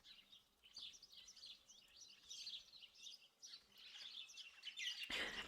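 A sparrow chirps outdoors in the video game Martha Is Dead, a run of quick, faint high tweets in loose bursts across the whole stretch, ending with a brief rustle of noise.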